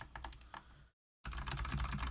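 Clicky computer keys pressed in quick bursts, close and crisp, with a brief silent gap before a denser run of rapid typing.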